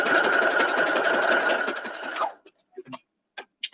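A sewing machine stitches quilt pieces in a fast, steady whir that runs close and loud for about two seconds, then stops abruptly. A few faint handling sounds follow in near silence.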